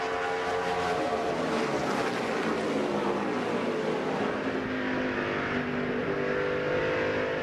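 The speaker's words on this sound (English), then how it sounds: "These cars streaming down that front straightaway underneath the lights with all the fans watching." Busch Series stock cars roar down the front straightaway under the lights, a loud continuous engine drone with rising and falling pitch as the pack streams past, crowd noise blended in.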